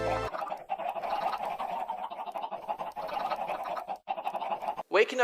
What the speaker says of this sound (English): I just wish I didn't build a chicken farm right outside of my bedroom